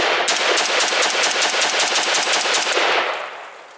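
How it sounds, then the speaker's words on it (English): Rapid automatic fire from a MARCOLMAR CETME L rifle, a loud, steady burst of closely spaced shots lasting about three seconds before tailing off into a short echoing decay. "MARCOLMAR CETME L first shots."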